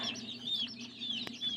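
Peeping and clucking from newly hatched baby chicks in a homemade egg incubator, a steady stream of high chirps held close by, with no talking.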